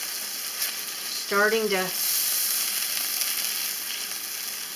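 Lamb sausages sizzle steadily in a frying pan with a close, constant hiss, while a voice speaks briefly partway through.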